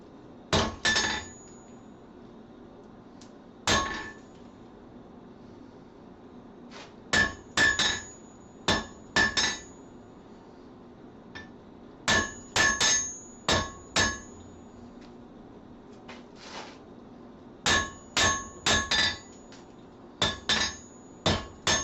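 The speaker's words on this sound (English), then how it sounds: "That way, I don't have to worry about hitting it in exactly the same spot with the hammer every time, because it's sitting in exactly the same spot on the anvil" Hammer blows ring against hot steel resting on the corner of an anvil, landing in short clustered bursts of two to four sharp metallic strikes separated by quiet pauses, loud and close with no talking.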